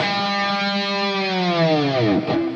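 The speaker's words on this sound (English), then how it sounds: "and then the G string with a whammy bar dive" A distorted electric guitar note on the G string bends steadily downward in a long whammy-bar dive, ending in a low growling wobble.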